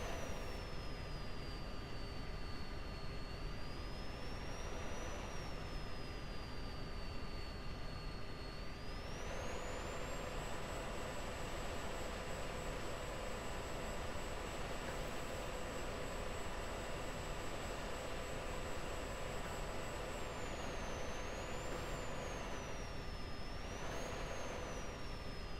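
A jet aircraft lands on runway 14 in a combat flight game, a steady engine roar under a high, wavering turbine whine that stays loud and continuous throughout, with no voices.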